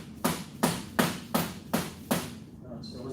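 A hammer strikes a rusted, corroded shock bolt on a Gilera GSM 50 moped six times in a steady rhythm, sharp metallic knocks up close, then stops.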